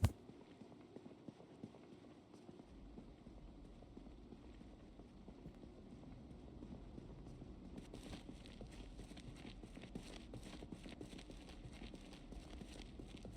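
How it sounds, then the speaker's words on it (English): Character footsteps in the survival video game Project Zomboid, a soft run of repeated steps, faint at first and growing denser and more rhythmic midway, with no talk. "Hear my footsteps."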